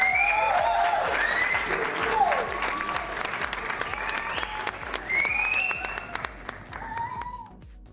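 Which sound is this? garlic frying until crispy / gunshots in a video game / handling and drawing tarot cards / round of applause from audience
round of applause from audience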